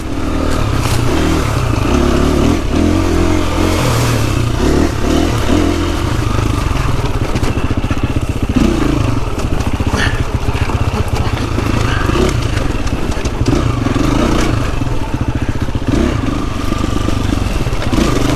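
A dirt bike roars along an overgrown singletrack trail in the Pacific Northwest, its engine revving up and down close by, with loud rattling and brushing clatter throughout.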